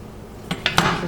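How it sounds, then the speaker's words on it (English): A knife cuts seeds and cores out of tomatoes for bruschetta, giving three sharp, close clicks against a dish that come closer together, followed by a brief scraping tail. "So you want to take the seed and the core out."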